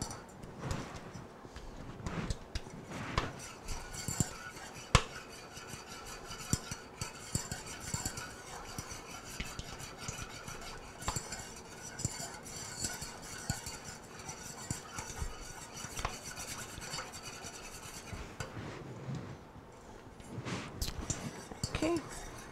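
Cake batter being mixed in a cake pan with a utensil, steady scraping and stirring strokes punctuated by light clinks against the pan, continuing close and moderately loud throughout.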